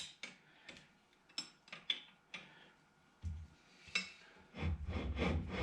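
Screws backed off a couple of turns on an Emmert 10A machinist vise: a series of short metallic clicks and ratcheting ticks, close and fairly quiet, ending in a denser stretch of rubbing and grinding.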